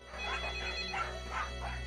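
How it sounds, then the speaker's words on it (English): A telephone rings in a repeating warbling pattern, sounding about four bursts over a low steady background hum, moderately close, with no talking. "Officer Price receives a phone call."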